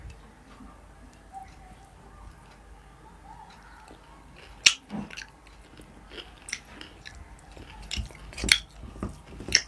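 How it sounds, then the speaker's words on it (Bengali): Someone eats puti fish chorchori cooked with pea greens, with close, moist chewing and small crunchy bites that grow more frequent toward the end, and no talking. "আগে খাই চচ্চড়িটা।"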